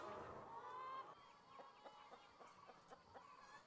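Hens cluck on a farm in an egg advert: a loud, close squawk opens, then a steady series of short clucks with no talking.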